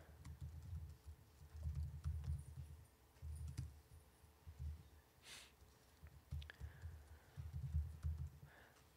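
Computer keyboard typing in bursts of quick clicks, close and fairly quiet, with short pauses between runs of keystrokes and no voices.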